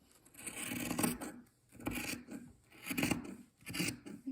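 Scissors snipping through fabric strips for a rag rug, four distinct rasping cuts in a steady rhythm, close and clear with no talk.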